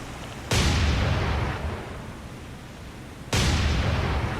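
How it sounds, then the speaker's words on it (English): Secondary 5-inch guns of the battleship South Dakota firing in the naval combat game War on the Sea, two loud sharp blasts a few seconds apart, each followed by a long rumbling decay. "South Dakota's officially firing her secondaries."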